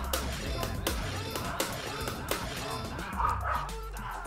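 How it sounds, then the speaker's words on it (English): A real pet dog named Banjo barks excitedly indoors in a household during a live stream, with repeated sharp barks and yips spread across the moment, fairly close and loud, with faint background talk. "My dog is going crazy because my real life dog is going crazy."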